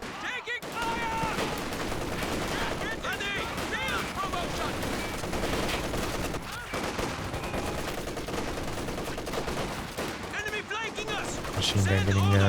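Sustained machine-gun fire and scattered explosions in a Company of Heroes 2 battle, dense and continuous, with a voice talking underneath.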